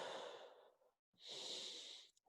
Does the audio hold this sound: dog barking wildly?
no